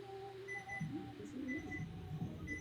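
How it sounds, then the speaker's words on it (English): A kitchen timer goes off for a bread stretch and fold, repeating steady electronic beeps faintly in the background while low murmuring voices run underneath. "Oh, that's my timer."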